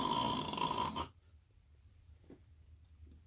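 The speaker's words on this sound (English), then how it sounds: "That was me snoring, by the way." A person snores close by, one rough, rattling inhaled snore lasting about a second, then near silence with faint breathing.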